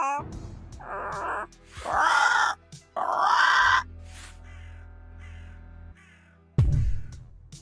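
A crow in the video game Yaga gives several harsh, drawn-out caws in separate bursts, loud and close, over a low ambient drone, with a final abrupt squawk near the end.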